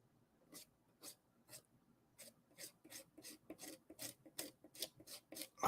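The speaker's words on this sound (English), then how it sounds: "Scrape that off a little bit more." Paint being scraped off a canvas in short repeated rasping strokes, faint and close, with the strokes coming faster and denser toward the end.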